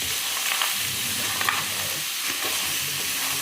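Clams (halaan) sizzling in a frying pan as they are stirred, with a steady hiss and soft scraping stirring sounds heard up close.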